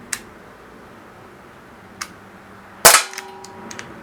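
A single sharp crack from a Baikal MP-655K CO2 pellet pistol firing a dome pellet, preceded by two faint clicks and followed by a brief metallic ring and small ticks, with no talking.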